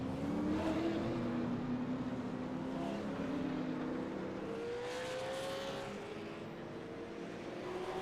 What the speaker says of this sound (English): this car is going to roll onto the racetrack here at USA